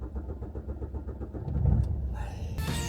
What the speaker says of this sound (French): est-ce que la voiture elle démarre?